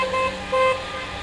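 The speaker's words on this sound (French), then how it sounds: "ils décident de ralentir la circulation entre Cavani et Kaweni à coups de klaxon" Car horns toot in two short blasts over a low traffic rumble, as drivers honk to slow traffic during a protest on the road between Cavani and Kaweni in Mayotte.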